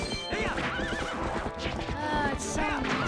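A horse in Zelda: Twilight Princess neighs and whinnies over rhythmic galloping clip-clop, with game music and a voice talking underneath throughout.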